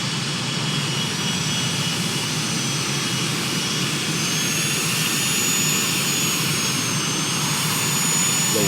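Twin jet engines of an aircraft in a flight simulator run steadily with a loud, continuous roar and high whine, unchanging throughout with no talk.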